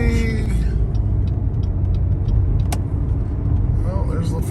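A fire truck passing on the road, a loud, steady low engine rumble with road noise heard from inside a nearby vehicle, while a person talks.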